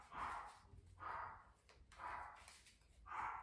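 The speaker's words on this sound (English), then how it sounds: "Sorry if you can hear my little dog." A little dog barks from somewhere in the room, four muffled, evenly spaced barks at moderate distance.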